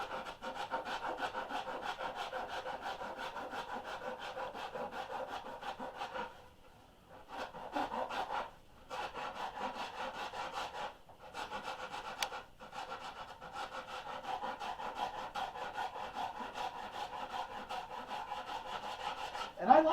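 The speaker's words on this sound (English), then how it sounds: "I have the blessing of a partially broken rasp instead of doing this with a chunk of rock" Wood being carved with a partially broken hand rasp on a boat half hull model, a steady series of rough rasping strokes that pause briefly a few times, close and moderately loud.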